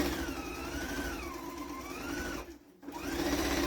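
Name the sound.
Viking sewing machine sewing a quarter-inch seam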